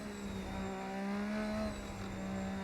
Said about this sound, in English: Those engine sounds, they sound good and bad.